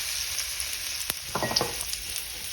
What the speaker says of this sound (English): Here's my fresh garlic I'm going to put in here and let this cook a little bit with this bacon, with this grease and butter.